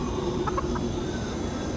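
A few short clucking chick calls from a video game cuckoo clock puzzle, sounding like a chicken, quick and close over a steady low background hum.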